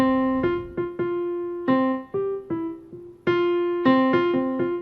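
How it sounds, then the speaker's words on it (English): Two keyboard notes a fourth apart sound together and separately in short repeated strikes, clear and close with no voices. "that's the sound of a perfect fourth"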